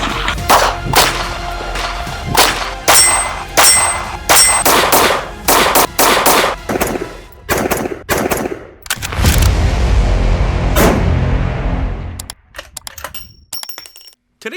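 An HK VP9 handgun fires a rapid string of sharp, loud shots in close succession, with brief pauses between bursts, a tinkle of casings hitting the ground, and a trailing quiet at the end.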